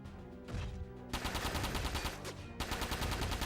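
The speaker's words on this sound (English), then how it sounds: "Wagner with his beefy machine guns" A mech's heavy machine guns fire in the Front Mission 4 video game, loud rattling bursts in several blasts, each cut off and restarted under low rumbling game sound.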